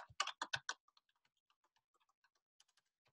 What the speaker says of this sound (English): let me type it here so everybody gets it in case